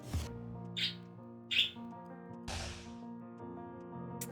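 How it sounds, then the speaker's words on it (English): A distressed bird gives a few short, sharp chirps, spaced apart and fairly close, over steady tonal background music from the game Wizard of Legend. "Okay, we have an upset bird here."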